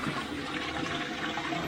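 A toilet flushing during a leak test after plumbing work, a steady close rush of water running for the whole moment without pause.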